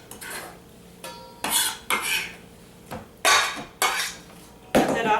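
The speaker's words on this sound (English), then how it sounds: "Start to gather this ingredients and bring it into a stainless steel mixing bowl" Chopped salsa ingredients are scraped and dropped into a stainless steel mixing bowl, a series of bright metallic clanks and scrapes arriving in irregular bursts, close and fairly loud against a quiet kitchen.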